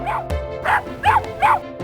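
A dog barks four times in a quick, fairly even rhythm, loud and close, each bark short and yelping with a slight whimpering edge.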